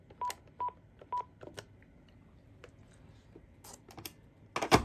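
A Panasonic KX-TG1062 cordless phone gives three short keypad beeps in quick succession, followed by soft button clicks and handling noise, with a louder rattle of the handset at the end.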